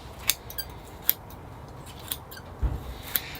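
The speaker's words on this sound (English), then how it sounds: "I think I'll do my root pruning, getting all these, circling roots trimmed off." Pruning scissors trim circling roots from a bonsai tree, giving a handful of crisp, separate snips spaced irregularly and close up, with no speech.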